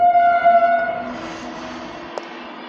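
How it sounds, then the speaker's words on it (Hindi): A train passing close by, with a steady rumble of wagons and a sustained horn tone that fades gradually over a few seconds, heard alone without voices. "ट्रेन की आवाज़ आई होगी आपको"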